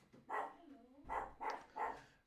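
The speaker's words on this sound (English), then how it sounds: "And sorry for that bark in the background." A dog gives four or five muffled barks, some way off in the background, spaced irregularly with a whiny rising yelp between them; no speech is heard.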